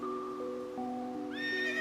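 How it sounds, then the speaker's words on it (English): A horse comes to a stop beside an old building and gives a bright, rising whinny near the end, over sustained low droning tones. No one speaks. "I stopped my horse beside the building"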